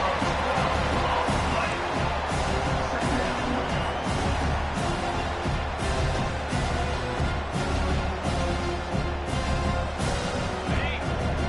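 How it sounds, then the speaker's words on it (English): A loud, dense football stadium crowd roars continuously during a defensive stand, a thick wall of cheering and noise with no pauses. "Listen to this crowd just shaking the girders of this place, trying to help their defense."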